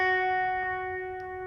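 A single sustained electric guitar note on the second string at the seventh fret rings out alone, bright and steady with effects, slowly decaying over a second and a half.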